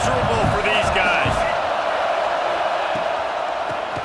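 A stadium crowd roars steadily in a college football video game between Penn State and Michigan, a constant loud wash of noise with a few thumps early and a commentator talking over it.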